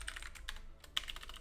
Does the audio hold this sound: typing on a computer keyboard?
yes